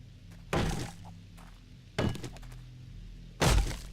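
Three heavy thunks of wood being chopped in 7 Days to Die land at a steady interval of about a second and a half, each a loud close impact with faint noise between.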